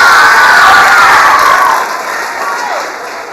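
A large student crowd in a school gathering cheers, shouts and claps loudly, a dense roar of high voices close by that eases slightly toward the end.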